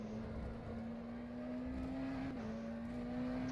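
McLaren Senna GTR race car in rFactor 2 on the Nürburgring Grand Prix circuit, a steady, sustained engine drone at near-constant pitch, loud and continuous with no talk, hitting high curbs.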